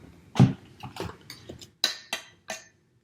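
A utensil works cream cheese cookie dough in a bowl, dry ingredients going into wet, giving about six separate clinks and scrapes, close and fairly clear, at an uneven pace.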